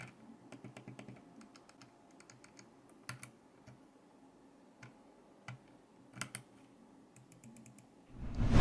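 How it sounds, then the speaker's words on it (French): Computer mouse buttons with Omron switches clicking close up, sharp dry clicks in irregular bursts and quick double taps over a quiet background, ending with a louder rustle. "je vais vous laisser écouter le son des clics de la souris"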